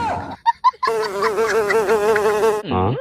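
A large black beetle buzzes near an open window indoors, close and loud. A few short buzzing bursts lead into a long, steady wavering drone, which breaks off and returns briefly at the end.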